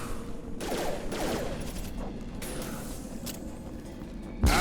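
Rapid bursts of sci-fi rifle fire from the game Mass Effect 2 crackle over a steady mechanical background, with a sharp loud shot right at the end.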